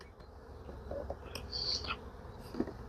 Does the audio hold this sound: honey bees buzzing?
yes